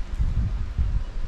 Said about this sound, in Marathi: ते बघा कसं हवा येते बघा